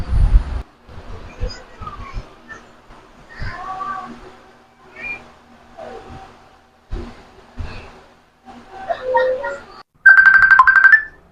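A phone ringtone for an incoming call comes in near the end, a loud bright electronic melody, right after a stretch of quiet room sounds and scattered noises.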